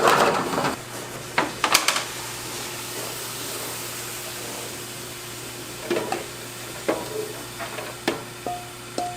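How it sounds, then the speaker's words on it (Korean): Stir-frying with anchovy fish sauce and green garlic over a rice straw fire at a barbecue restaurant, a steady broad sizzling hiss under a low hum, broken by scattered clanks of a utensil against the pan. "멸치 액젓을 두르고 청마늘 한 스푼 정도. 덴불에서 볶아주세요."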